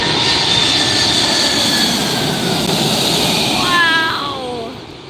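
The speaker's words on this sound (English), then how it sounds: "Asiana 747 cargo." Asiana Boeing 747 cargo jet on a low, close night approach into LAX, a loud sustained engine roar that swells as it passes, with a falling whine toward the end as it moves away.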